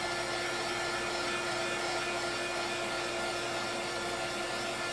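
A hair dryer or heat gun blows steadily and loudly to dry transfer paste, a constant whooshing airflow with a faint motor whine, unbroken for the full five seconds and with no voices.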